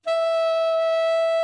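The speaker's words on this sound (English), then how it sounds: "Altissimo F sharp. And that sounds like this." A tenor saxophone holds a single altissimo F sharp, a bright, steady, sustained tone sounding alone and close for about a second and a half.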